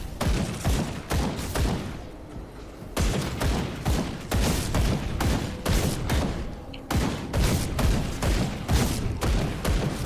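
Rapid bursts of pistol fire from a dual-pistol Inquisitor enemy in Grim Dawn, dense volleys of sharp shots in clusters separated by brief gaps, loud and continuous with thumping impacts mixed in.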